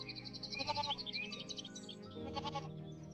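A cartoon goat bleats in a jungle animal story: short wavering, nasal calls repeated over a couple of seconds, mixed with light musical tones.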